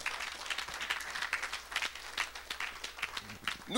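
A church congregation applauding and cheering for Jesus, a dense patter of many clapping hands throughout, fairly distant.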